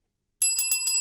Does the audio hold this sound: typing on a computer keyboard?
no